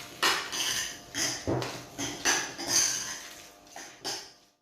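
Cutlery clinks and scrapes against a bowl as a seasoned avocado filling is mixed, about seven distinct close knocks in an uneven rhythm, loud and alone.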